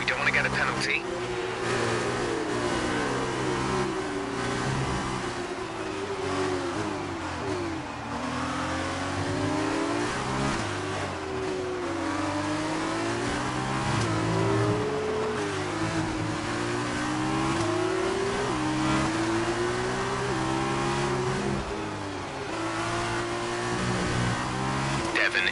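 Formula 1 car engine in a racing video game revving continuously, pitch rising and falling through gear shifts and corners, a loud steady whine that persists throughout with other car noise behind it.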